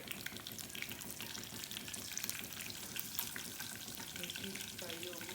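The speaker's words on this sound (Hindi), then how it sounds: "मिर्ची फ्राई हो गई" Two cut green chillies fry in a pan for a black-lentil dish, giving a steady, soft, continuous sizzle that stays even throughout, with faint clinks near the end.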